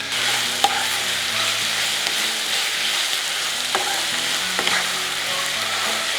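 Spinach frying in a pan over a medium flame, giving a steady, close sizzle with occasional stirring scrapes and small pops throughout.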